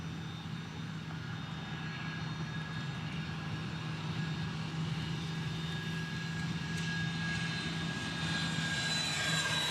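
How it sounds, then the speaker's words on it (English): A Learjet private jet arrives at Dallas Love Field with a continuous engine roar and a steady whine, loud and unbroken for nearly ten seconds, with no voices. "Oh no, it's a Learjet, excuse me."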